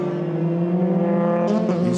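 Euroformula Open race car at Paul Ricard accelerating across the finish line, a steady loud engine drone with strong harmonics and rising whine near the end, heard under commentary.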